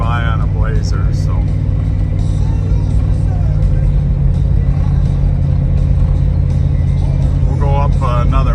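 The engine of a 1992 Chevrolet Blazer hums and rumbles steadily from inside the cab while driving, loud and continuous, with someone talking over it.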